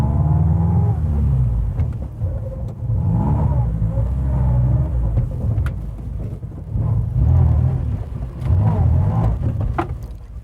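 A car engine rumbles steadily up close, its pitch rising and falling as the vehicle drives and then eases off, with the noise continuing through the whole stretch.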